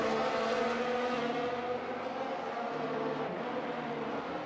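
Race car engine howling at full throttle in a sim racing game, a sustained loud, steady drone with a dense harmonic whine that holds constant through the whole stretch.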